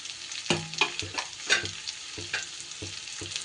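Onion sizzles in a pan with potatoes and garlic over lowered gas heat, with repeated scraping and clattering as the mixture is stirred and turned, steady frying hiss throughout and no voices.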